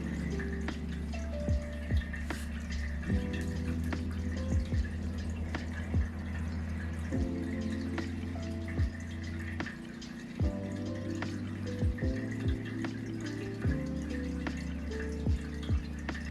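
Pet water fountain set out for a cat, running quietly with a soft continuous trickle and repeated small drips at irregular intervals throughout.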